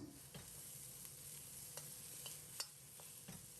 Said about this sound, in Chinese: 放入准备好的洋葱，开大火在锅中煸炒